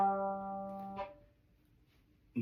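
A violin's G string sounds one sustained bowed note for about a second, clear and close, then cuts off into near silence.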